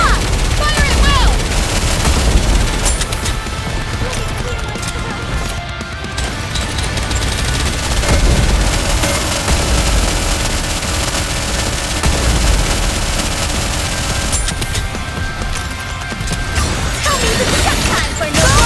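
Sustained battle gunfire in the Nikke video game: dense, overlapping bursts of automatic shots and crashes roll on continuously and loudly, with brief lulls, mixed with game effects and no clear talking.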